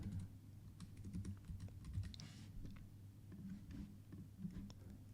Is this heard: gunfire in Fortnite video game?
no